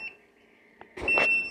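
An incubator's low-temperature alarm beeps: a short faint tone at the start, then a loud sustained electronic beep near the end, with a small knock and rustling around it and no speech.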